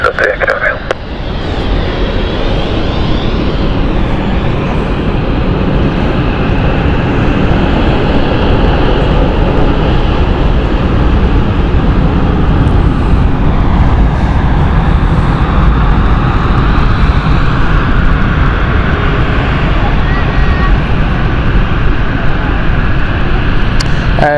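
Loud, sustained roar of a jet engine as a plane makes a steep approach and lands at London City airport, a steady close drone with shifting whine, with people talking over it.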